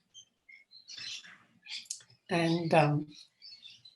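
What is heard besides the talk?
birds chirping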